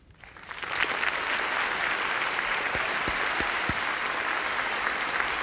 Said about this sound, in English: they will applaud as we welcome the two candidates, Governor Bush and Vice President Gore